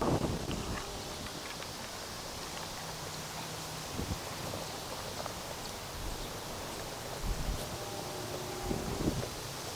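Steady, gusty wind rushes across a golf course, a broad rough roar buffeting the microphone for the whole stretch, with faint scattered rustles and no clear voices.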